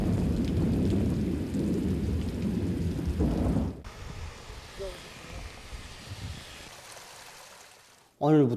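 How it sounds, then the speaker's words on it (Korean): Heavy monsoon downpour with thunder pours steadily in a dense roar, easing partway through to lighter rain on surfaces, with a rumble at the end. "전국의 여러 지역들에서 비와 소낙비가 내리고 지역 폭우를 동반한 많은 비가 내렸습니다"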